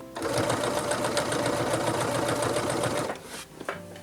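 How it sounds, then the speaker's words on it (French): A sewing machine stitches bias binding around a corner in a steady, fast mechanical chatter for about three seconds, then stops, leaving a few softer handling sounds. "Et je vais commencer à coudre."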